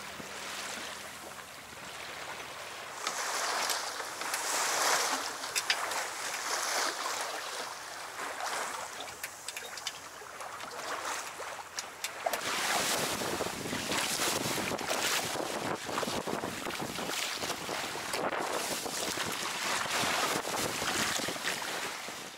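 A Rob Roy 23 sailboat sailing close-hauled toward Monhegan Island off Boothbay, with steady loud wind buffeting the microphone and waves rushing against the hull throughout, growing rougher partway through.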